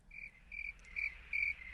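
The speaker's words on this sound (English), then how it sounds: "Yeah, there you go. Crickets." Crickets chirp in a steady outdoor night chorus, four evenly spaced high trilling bursts, clear and moderately close, with no voices.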